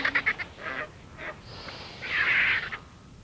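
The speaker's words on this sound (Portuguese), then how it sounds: "A hiena já teve o suficiente e as aves se ocupam agora com as sobras" Birds scavenging the leftovers of a hyena's kill in the African wild give harsh, honking calls, a few short squawks followed by one longer, louder outburst, over quiet outdoor ambience.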